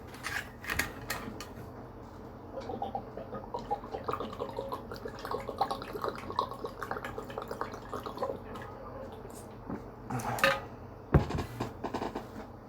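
Water runs steadily from a tap with scattered clinks and taps of dishes on top, a busier clatter near the end, all fairly close with no talking.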